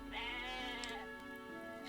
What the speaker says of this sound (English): This is one ass smart goat.